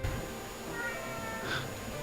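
A pet cat named Kitty meows once near the middle, a short tonal call rising over steady low room hum and soft background noise.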